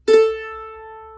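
An orchestral string instrument sounds its open A string for tuning: one bowed note with a firm attack that sustains steadily and evenly for just over a second, close and clear with no talking.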